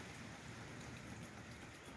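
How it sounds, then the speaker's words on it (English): Light rain still falling in a garden after heavy rains, a soft, even patter with steady hiss and no voices. "It took until 5 o'clock for the rains to abate. It's still peppering here and there"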